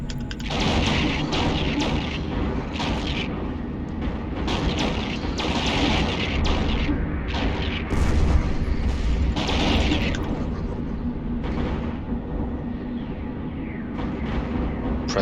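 Spaceship guns blasting in the EVE Online video game, a dense barrage of loud booming shots and crashes fired in irregular bursts over constant background rumble.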